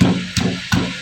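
Garlic and green chilies pounded in a mortar resting on a cloth, two soft, muffled thumps about a third of a second apart, close and damped, with a low background hum.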